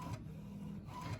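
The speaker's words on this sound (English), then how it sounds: "Slowest and dustiest printer." A slow, dusty printer printing pieces of a picture gives a faint, steady mechanical whir, with two brief shifts in the motor as the print head moves, and no voices.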